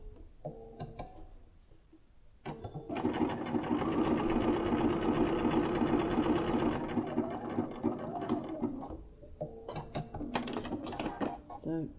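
A sewing machine runs a decorative stitch on a quilt block, a sustained fast mechanical whir and rattle for several seconds, with short start-stop bursts before and after.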